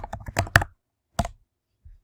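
Quick bursts of key clicks on a computer keyboard, typing a short word into a quiz and study tool, a dense cluster followed by a single later keystroke, close and clear with no talking.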